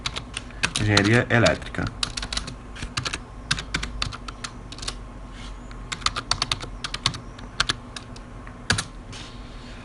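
Typing on a computer keyboard, a fast burst of key clicks after a short spoken word, then irregular clusters of keystrokes scattered across the rest, close and distinct.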